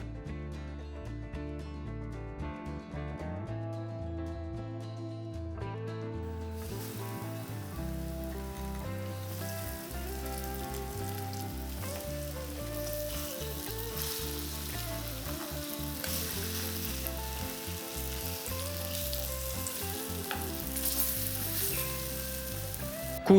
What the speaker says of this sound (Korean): 두부에 전분가루를 묻혀 프라이팬에서 구워줍니다.